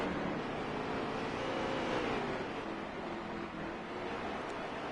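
Racing trucks in NASCAR Heat 3 at Bristol drone steadily as a dense pack of engines, continuous and loud with slight pitch swells and no break.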